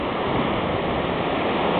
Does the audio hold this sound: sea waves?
yes